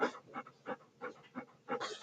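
A pet dog pants in quick, rhythmic bursts close by, with short gaps between each run of breaths and no talking.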